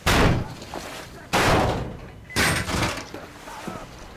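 A door in the video game Metro Exodus taking repeated heavy blows, with three loud crashing impacts about a second apart, each trailing off into rattling noise, and voices shouting in the background.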